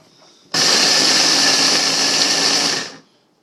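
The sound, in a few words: Ninja blender grinding oats into powder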